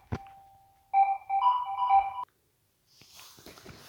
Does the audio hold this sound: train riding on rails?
no